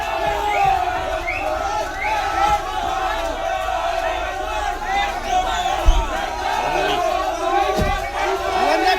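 Protesting crowd outside a Krishnanagar court shouts "thief, thief" slogans at a relief-fraud accused, loud rhythmic group shouting and babble throughout with occasional thumps.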